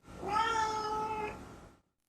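A cat named Ralph lets out a single drawn-out, voice-like meow that bends as it goes, close and clear, lasting over a second before fading to silence.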